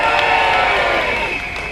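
A dense crowd at a national demonstration in Birmingham cheers and shouts continuously, a loud sustained roar of many voices that eases slightly toward the end.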